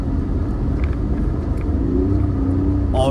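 A Lexus IS300 rolls along a snowy street, a steady low engine and road rumble heard from inside the cabin, even and continuous with a slight rise near the end.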